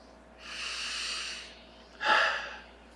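Two close, distinct breaths: a long airy inhale lasting about a second, then a short sharper exhale, alone in a quiet room.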